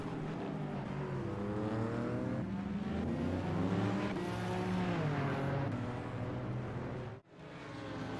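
A prototype race car in a racing video game spins at the Bus Stop chicane at Spa-Francorchamps, its engine wailing and sweeping up and down in pitch, then cutting out briefly near the end.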